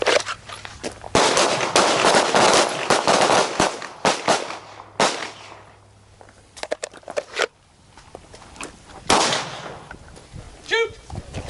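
Handgun shots ring out at close range during combat pistol training, several sharp loud cracks in irregular bursts with quieter gaps between, and brief voices heard in the pauses.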